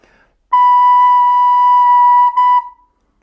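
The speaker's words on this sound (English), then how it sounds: "We play a long B first, and then a short B right after" A recorder sounds one long, steady, pure B note for about two seconds, then a short B right after, close and loud in an otherwise quiet room.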